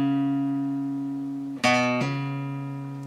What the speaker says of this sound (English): we can take our third finger and hammer down onto the fourth fret here on the A string